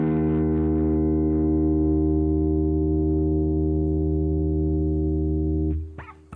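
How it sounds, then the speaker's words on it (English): A single sustained low E note on an electric guitar tuned down a half step rings loud and steady for almost six seconds, rich in harmonics, then is damped with a short scrape. "Low E string should sound like this."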